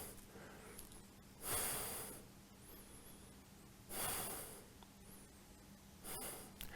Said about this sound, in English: Keep breathing here.